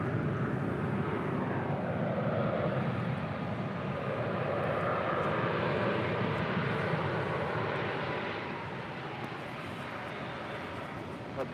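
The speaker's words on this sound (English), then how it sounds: "This is United 1185 departing to Los Cabos on an A320." A United Airbus A320 jet departing LAX for Los Cabos, its steady broadband engine roar holding loud and close before easing slightly toward the end, with no speech over it.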